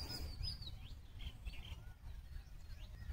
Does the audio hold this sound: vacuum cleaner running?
no